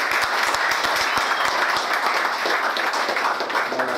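Sustained applause from a seated audience at a business presentation event, dense steady clapping filling the room throughout, with no voices over it.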